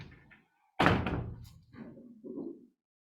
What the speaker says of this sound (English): So you might want to close that door